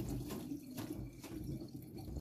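Radish being rinsed under a running kitchen tap, a steady close splash of water over the root with some gurgling and handling, no talking.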